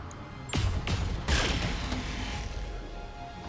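Mech weapons in BattleTech fire in heavy booming bursts, a couple of sharp, loud blasts in quick succession with rumbling decay trailing after them.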